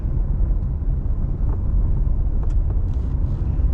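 Car driving on a road near Bass Harbor, Maine, after a storm, with a steady low engine and tire rumble heard from inside the cabin, constant and unbroken with no talk.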